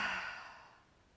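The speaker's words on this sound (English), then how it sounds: "exhale through the mouth" A single deep exhale through the mouth during a yoga pose, a soft breathy rush that fades out over about a second, close and quiet, with no talking.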